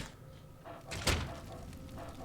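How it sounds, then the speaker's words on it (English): A house door in the video game Fallout 3 opens with a single muffled thunk, moderately close, over a quiet ambient game background. "Door to Wilks' house"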